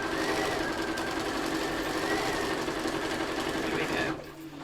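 A sewing machine stitches long straight quilting lines in one continuous steady run, its needle mechanism whirring loudly and evenly for about four seconds before stopping abruptly.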